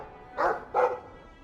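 A dog in the fantasy role-playing game Dragon Age 2 barks twice in quick succession, close and clear against a quiet background.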